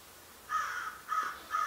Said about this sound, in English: oh my goodness, this freaking bird.